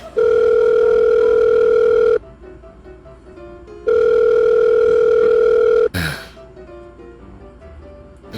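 A telephone rings loudly in two long steady bursts with a pause between, then a sharp click as the call is picked up, with low background sounds under it.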